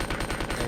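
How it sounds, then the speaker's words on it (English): Automatic gunfire in rapid, evenly spaced bursts from a machine gun in the video game Resident Evil 2. The shots are loud and close, with no talk over them. "we're going to go and demonstrate the power of the machine gun"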